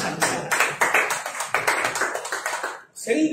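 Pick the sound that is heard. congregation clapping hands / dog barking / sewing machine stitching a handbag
congregation clapping hands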